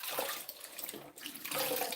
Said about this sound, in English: by filling the basin and letting the water overflow